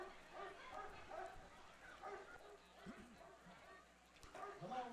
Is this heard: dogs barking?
yes